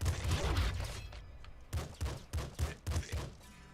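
Shotgun blasts in a video game: a sustained loud burst at the start, then a quick run of five or six sharp, punchy shots in close succession.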